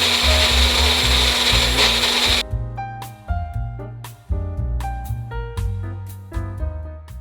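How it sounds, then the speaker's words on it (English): A blender whirs loudly and steadily while blending an olive oil sauce for two seconds, then cuts off, leaving a string of clinking, knocking kitchen sounds from nearby. "And then we blend it up."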